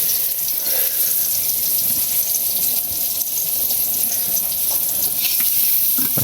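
Breakfast cooking in a home kitchen, with a steady hiss of food frying in a pan that carries on without a break. Faint clatter sits over the sizzle and nobody speaks.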